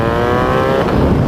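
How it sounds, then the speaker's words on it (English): A 2019 BMW R 1250 GS Adventure fitted with a titanium Akrapovic exhaust, its engine note loud and steady with a rich harmonic drone that swells briefly as the rider rolls on along a small road. "the titanium Akrapovic exhaust makes"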